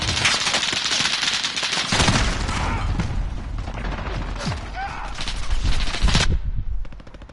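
Rapid bursts of gunfire from the Call of Duty beta multiplayer game, including shotgun blasts, crack out loudly in quick clusters over ongoing battle noise before fading toward the end.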